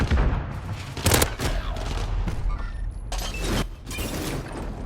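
Pistol gunfire in the shooter game Call of Duty: Modern Warfare: loud, rapid shots in several dense bursts, one after another, over a constant wash of game noise.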